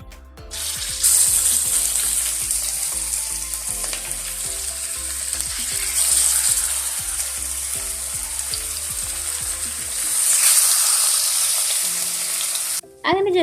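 Seer fish and small sardines rubbed with masala sizzle steadily in a hot pan, a loud continuous crackling hiss with occasional clatter of stirring, heard alone with no talk.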